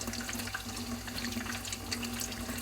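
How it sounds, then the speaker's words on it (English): Tap water running steadily into a sink while hands are washed in a kitchen during pakora frying, a continuous close splashing flow with no voices. "I have to keep washing my hands"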